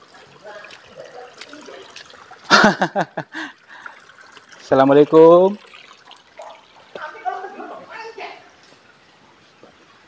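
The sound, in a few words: water flowing in a drain channel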